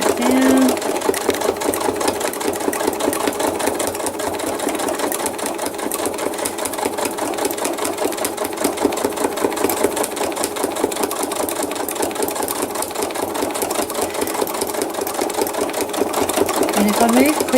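A sewing machine stitching thread art runs in a fast, continuous, even buzz of needle strokes for the whole stretch, loud and close, with no pauses.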